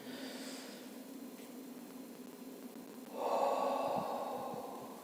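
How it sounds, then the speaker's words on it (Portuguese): A deep, slow diaphragmatic breath taken as a calming exercise: a soft, close inhale swells into a louder, airy rush of breath midway, then eases off, with no talking. "Fazer uma respiração profunda do diafragma, encher não o peito, encher a barriga assim."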